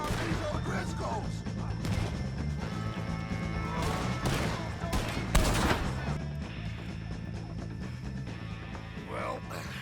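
Gunfire at O'Driscoll gang members in the video game Red Dead Redemption 2, scattered shots and a sharp crash against a steady musical score, with one heavy bang standing out midway.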